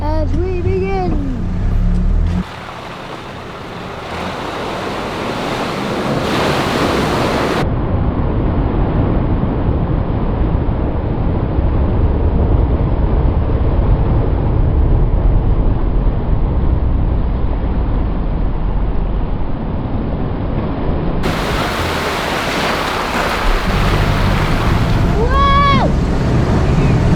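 4WD vehicle in second gear low range with the rear locker engaged, pushing through a deep water crossing on a Tasmanian track, a long steady roar of engine and churning water, with mic wind noise.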